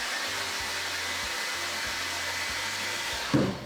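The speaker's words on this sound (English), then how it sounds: "this is my air gun" A heat gun blows a steady, loud, even rush of air while warming coloured cocoa butter for chocolate truffles, with a few faint clicks beneath it and a brief knock near the end.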